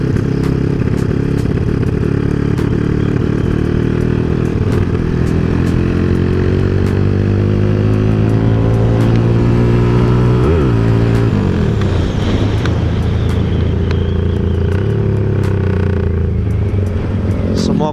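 A motorcycle engine with a freshly tuned carburetor runs loud and close for a long stretch, its pitch climbing and falling through several revs, with voices talking over it.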